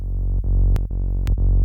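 A deep kick drum in FL Studio with its F sharp 1 and F sharp 2 frequencies boosted hits four times, each a loud sustained low boom with a short bright click at the attack.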